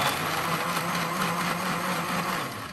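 A blender whirs steadily, crushing fruit into bright red juice in a home kitchen, a dense continuous motor whine with a low hum beneath, close and loud throughout with no pauses.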